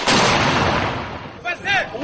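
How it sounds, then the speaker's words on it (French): Heavy gunfire nearby during a chaotic street clash in Côte d'Ivoire, a dense, loud wash of shots and blasts filling the scene, with a brief shout or voice breaking through near the end. "il y a des tirs dans le coin, il y a beaucoup de tirs"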